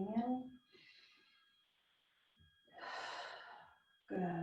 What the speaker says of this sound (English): Good. Breathing in.